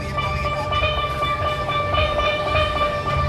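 A group of players striking the D note on steelpans, a rapid shimmering ring of many overlapping metallic strikes at a fun park show.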